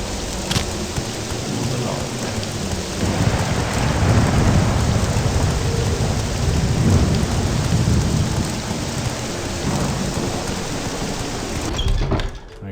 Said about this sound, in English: Nice storm to greet us here in Balmora.